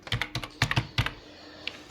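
Someone types on a computer keyboard with a few quick clusters of key clicks, then a pause and a final tap, close and clear, with no talk over it.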